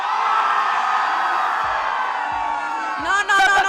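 A crowd at the Paris Game Week gaming event shouts and cheers loudly and continuously, with sharper individual whoops and yells bursting out near the end.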